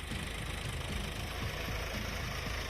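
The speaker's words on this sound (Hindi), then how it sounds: "ट्रैक्टर चल रही है" A tractor engine chugs steadily in a farm field at Sikandrabad, Bulandshahr, a low, rough, knocking drone that stays constant and fairly close throughout.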